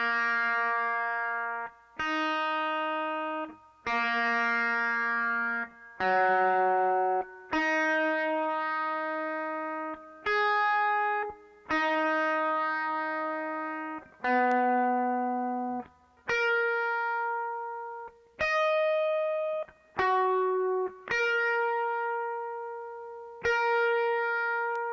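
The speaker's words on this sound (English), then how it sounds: "I'll compare it to the E and the G string, and you'll hear a rattle in there" Single notes ring out one at a time on the B, high E and G strings of a 2019 Gibson Les Paul Standard 60s, each left to sustain and decay; a faint buzzing rattle sits inside the B string notes, with no voices.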